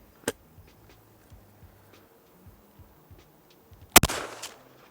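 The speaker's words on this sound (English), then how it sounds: "We'll shoot this at 70 metres" A single sharp shot from an air rifle fired at a 70-metre target, loud and close, preceded by a fainter crack and followed by a brief decaying report over a quiet outdoor background.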